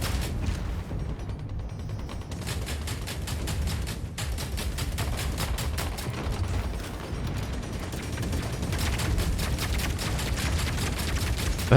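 Rapid gunfire bursts in the mech combat game Hawken Reborn, rattling in long repeated volleys over mechanical clanks and a dense battle din, with no talking.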